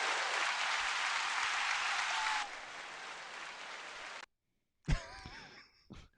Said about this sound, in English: Hit the clap button, then the rail button.